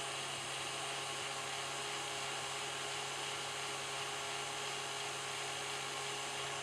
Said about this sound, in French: Je vais baisser la vitesse de rotation de mon batteur